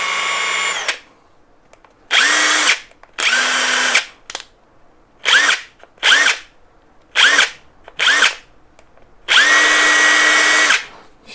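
A KAMOLEE DTW700 cordless impact wrench, just reassembled, runs in eight separate bursts of varying length, each a loud, close whine with a rising spin-up, separated by short silences.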